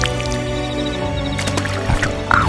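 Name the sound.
squishing mud sludge ASMR effect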